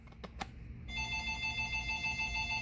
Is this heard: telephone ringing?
yes